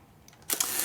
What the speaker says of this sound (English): set it on a relatively slow speed, maybe a half or a quarter of a second, and just fire the shutter